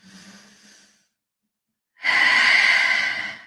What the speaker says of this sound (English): Another nice deep breath in.